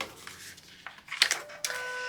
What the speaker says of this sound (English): that is my printer, if you heard that noise. It's probably going to be calibrating soon